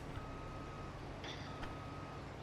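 Truck reversing alarm in Farming Simulator 22, a faint steady tone repeating under a dense engine hum, with a couple of brief higher chirps.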